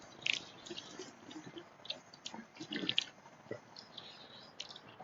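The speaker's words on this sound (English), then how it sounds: "Sorry, just getting a drink." Someone takes a drink of water from a canteen outdoors, with faint slurps, small drips and swallowing noises spread through a few quiet seconds.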